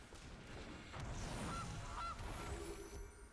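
Goose honks from a Magic: The Gathering card game sound effect, two short calls in quick succession over steady background noise.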